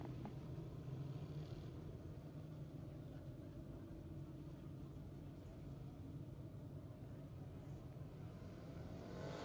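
Race cars circle the New Egypt Speedway track, a continuous distant engine drone and rumble holding steady at low level without pause.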